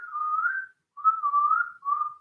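Someone whistles close by in a quiet room, three sustained wavering tones separated by short breaths, with no talk.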